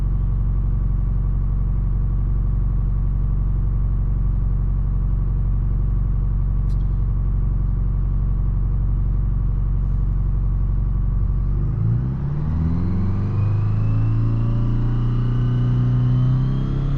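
A diesel car engine idles steadily on vegetable oil at 34 psi fuel pressure, a loud close low rumble that holds even, then shifts in pitch near the end as the revs change.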